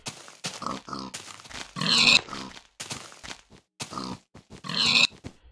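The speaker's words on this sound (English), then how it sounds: "Pig." A pig in a Minecraft-style video game grunts and oinks in short, separated bursts, fairly close and clear, with quiet gaps between the calls.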